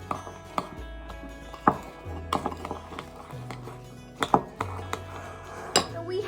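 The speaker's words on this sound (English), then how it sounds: "now I will mix" Cinnamon roll ingredients get mixed in a bowl with scattered clinks and knocks of utensil against bowl, irregular and fairly quiet, over low background hum.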